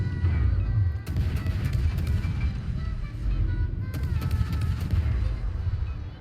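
Ship guns boom in a naval video game, a dense run of heavy, loud artillery blasts that rumble continuously, with sharper volleys standing out around the second and fourth seconds.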